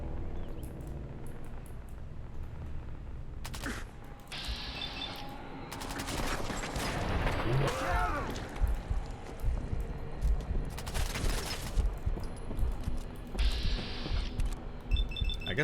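Bursts of rapid automatic gunfire from the video game Fallout 4, loud fusillades in clusters with short pauses between them and mechanical clicks in the gaps, no talking.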